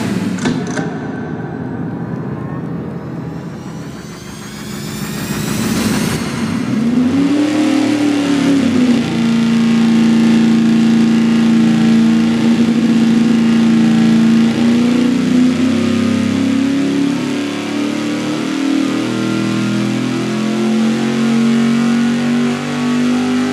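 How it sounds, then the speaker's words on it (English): A small 372 engine on a dyno with Crane hydraulic roller lifters makes its baseline pull, a loud sustained roar that climbs steadily in pitch after an initial rev, with no talk. "fire up our little 372 and do a baseline run with a good crane hydraulic roller lifters in it"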